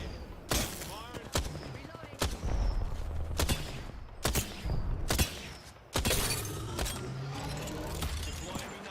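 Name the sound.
gunfire in a video game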